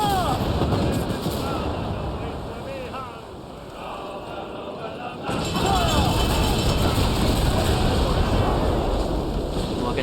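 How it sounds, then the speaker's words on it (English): Mortar fire from a sailing ship in an Assassin's Creed naval battle, loud booming blasts over rushing wind and sea noise, with a heavy burst swelling after a brief lull and shouted voices around it. "Disabled 3 ships with 1 mortar"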